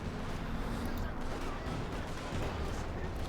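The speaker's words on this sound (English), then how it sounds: "machine gun there taking fire from the Panther 4" Battle sounds from Company of Heroes 2, with machine gun bursts and tank fire from a Panther rumbling in a dense, continuous barrage. A voice talks faintly underneath.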